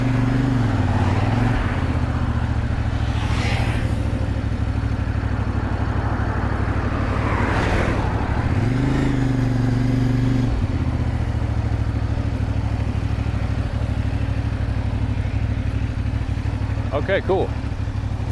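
A motorcycle engine drones steadily while riding on a road in Mexico, with wind rush and a constant mid-pitched hum that shifts briefly as the revs change, and a person speaks a few words over it.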